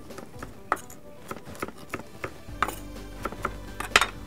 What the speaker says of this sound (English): some fresh parsley. Just chop that.